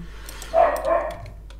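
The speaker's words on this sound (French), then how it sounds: "Il y a mon petit chien qui est pas content, il a pas ce qu'il veut." A small, unhappy dog lets out a short whiny bark or two, close indoors, over a low steady hum.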